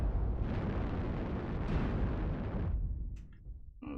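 Missiles fire and explode in a mech combat video game, a dense rumbling barrage of blasts that holds loud for a few seconds, then cuts away to a few scattered, sharper pops.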